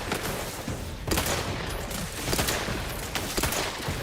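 Rapid bursts of gunfire in The Outer Worlds video game, sharp cracks repeating in quick clusters across a few seconds, moderately loud with no talking over them.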